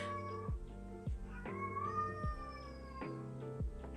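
A house cat meows repeatedly and insistently nearby, about six drawn-out yowling calls in a fairly regular rhythm, fairly faint and with no talk over them.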